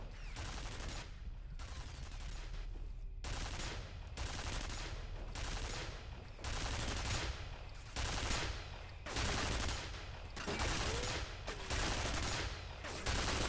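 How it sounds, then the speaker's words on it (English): Sustained bursts of automatic gunfire in the shooter game F.E.A.R., repeated rapid volleys separated by brief pauses, loud and close throughout. "What is he even firing at?"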